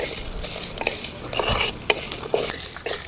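Fennel seeds sizzle and pop in hot oil in a pan while a spoon scrapes and stirs them in repeated strokes, close and clear, with no talking.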